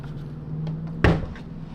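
The back of a Mamiya C330 camera pops open with a single sharp mechanical click, preceded by faint fiddling with the latch, close and alone.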